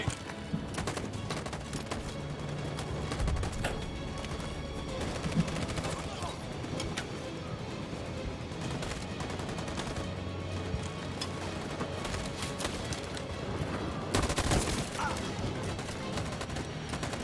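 Bursts of rapid gunfire crackle through a battle in the video game Detroit: Become Human, dense volleys spread over a noisy backdrop, with a voice talking at times.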